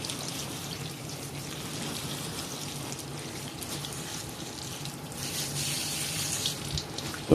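Warm tap water runs steadily from a faucet while houseplants are watered, a constant close hiss and splash that grows slightly brighter and louder near the end, with no talking.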